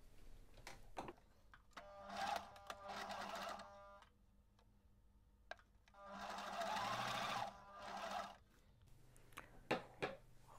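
A sewing machine stitches folded fabric 1 cm from the edge, running in two sustained whirring bursts separated by short pauses and clicks, close and steady, with no talking.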